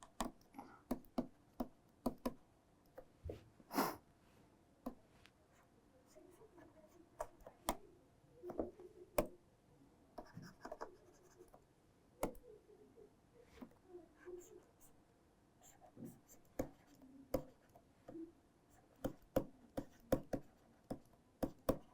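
Pen strokes scratch and tap across paper while chemical structures of anion-binding hosts are drawn, a steady run of short clicks and scrapes, close and fairly quiet.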